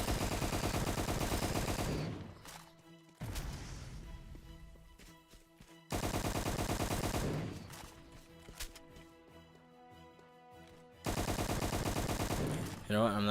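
Video game gunfire in rapid automatic bursts, three long stretches of dense shooting separated by quieter gaps with scattered single shots and clatter, loud and close.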